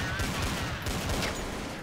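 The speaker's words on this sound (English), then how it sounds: "Jochen again just going to get that little headshot with a USP" Rapid gunfire in a Counter-Strike match between Alternate and Epsilon at Copenhagen Games, including a USP pistol headshot, popping amid a loud, continuous fusillade of shots that runs through the whole stretch with a voice faintly underneath.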